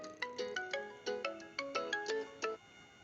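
A mobile phone ringtone playing a bright, repeating melodic pattern of quick plucked notes, clear and close, with no talking.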